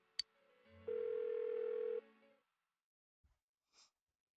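A single steady telephone tone sounds for about a second after a brief click, then stops, leaving near silence with faint small noises; no one picks up.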